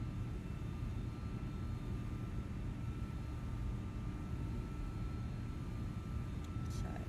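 A big airliner's engines in a flight simulator game make a dense, steady low drone with a faint tonal whine above it, unchanging throughout.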